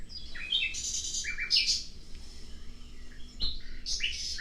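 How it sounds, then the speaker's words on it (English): A backyard bird near a garden pond gives bright, sharp chirps and short squawky calls in three bursts, separated by quiet gaps with a soft thump near the end. "The bird."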